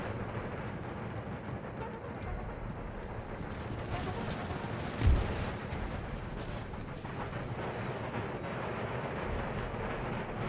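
A cannon volley on an Empire Total War battlefield, a single deep boom landing mid-clip above a constant rumbling wash of distant battle noise and gunfire.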